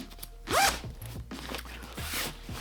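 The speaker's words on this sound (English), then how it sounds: "when you zip this together, boom, it's just more compressed" An Evergoods duffle bag is zipped shut, with one quick close zipper pull, a brief pause, and a second shorter pull, crisp and clear with no talking.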